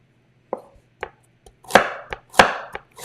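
A kitchen knife cuts vegetables into strips on a board as part of a pierogi recipe, giving sharp, separate chopping knocks. About eight of them fall at irregular intervals, close by, over a faint background hum.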